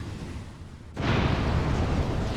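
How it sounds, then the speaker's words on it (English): Fire spell igniting in Dragon Age: Origins, a sudden loud whooshing roar that starts abruptly after a quieter stretch and keeps burning as a dense, sustained rush. "Literally, that's fire."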